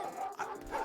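Dogs in a video game give short yipping barks, two or three quick calls close together at moderate loudness, without speech over them.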